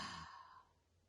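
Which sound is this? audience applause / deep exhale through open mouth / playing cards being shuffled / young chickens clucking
deep exhale through open mouth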